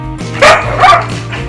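Ollie the dog gives two loud, close barks in quick succession over a low steady background hum.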